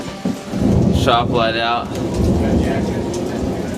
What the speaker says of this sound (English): Thunder showers and whatnot.